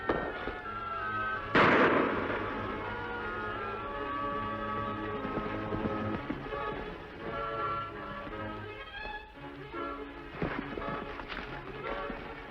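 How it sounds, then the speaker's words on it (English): Gunshots crack out in a western setting, one sharp loud report early and a few fainter pops later, among clattering background noise. "Shots came from this direction."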